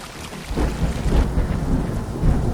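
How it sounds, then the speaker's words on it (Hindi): Heavy rain pours steadily while deep thunder rumbles and rolls through, loud and close, with no voices. "पूरे इलाके में लगातार तेज बारिश हो रही थी।"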